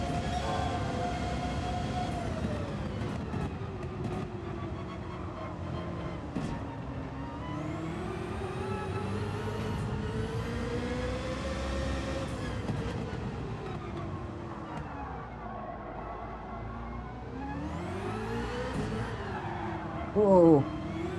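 Corvette CX.R VGT Concept engine in Gran Turismo 7, a steady loud engine drone whose pitch rises and dips through repeated gear shifts, continuous throughout with a voice talking over it.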